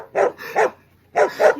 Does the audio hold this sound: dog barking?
yes